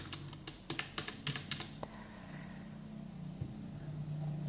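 Keys tapped on a laptop keyboard, a rapid run of close sharp clicks that stops after about two seconds, leaving a low steady hum.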